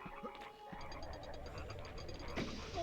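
A toad croaks in the PS1 game MediEvil amid busy game music and effects, with a clear croak-like burst near the end; no voices.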